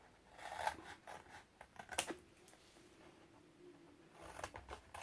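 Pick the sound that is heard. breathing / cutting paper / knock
cutting paper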